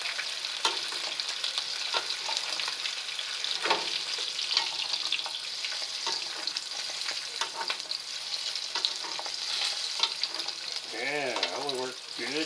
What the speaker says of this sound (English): Try to brown up part of that I couldn't get to.